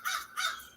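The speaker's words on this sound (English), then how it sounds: "He's out here in the front yard, just cawing away." A crow caws twice in a front yard, two harsh rasping calls in quick succession, fairly close and clear against a quiet background.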